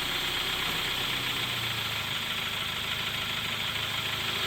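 Steady idling engine of a 2014-2016 Kia Soul being shifted into gear after a transmission replacement, a continuous even hum with faint rattle, close and unbroken, no talking.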